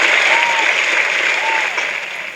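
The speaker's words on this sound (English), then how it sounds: "a round of applause for our special guest" A studio audience applauds a special guest, a dense, loud burst of clapping that holds steady and then tapers slightly toward the end.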